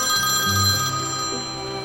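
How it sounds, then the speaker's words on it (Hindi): A telephone rings with an incoming call, a short electronic ringtone with stepped tonal notes, fairly close and alone. "रुको, कॉल आ रही है।"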